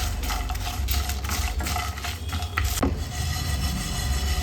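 Cashews and almonds are stirred and roasted in hot masala in a pan, with a steady scraping, rustling stir and a continuous sizzling hiss throughout, and no voices.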